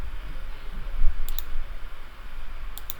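Mouse clicks while drawing a curtain wall in Revit, two pairs of quick, crisp clicks spaced apart over a steady background hum.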